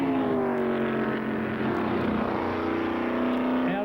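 An F5000 single-seater race car at a New Zealand circuit accelerates on throttle through a right-hand then left corner combination, its engine a loud, steady, rising roar with shifting pitch, close and continuous throughout.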